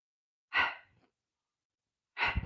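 Two separate breaths during a chair yoga session, each a soft sigh-like exhale close to the listener, with a short silence between them.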